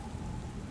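A storm in Book of Hours: dense, steady rain hiss with a low rumble of thunder underneath. It is loud and continuous through the whole short moment.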